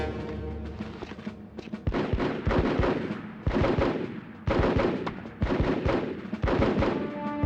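Hostile gunfire in the Full Spectrum Warrior game crackles in repeated bursts of rifle and machine-gun shots with heavy thumps, several volleys separated by brief pauses, moderately loud and steady throughout.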